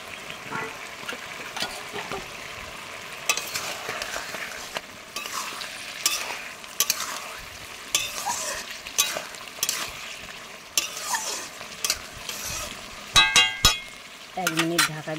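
Fish frying in a pan with turmeric for a lau koi dish, with steady sizzling and stirring, clinks of a utensil, and a few sharp scraping knocks near the end.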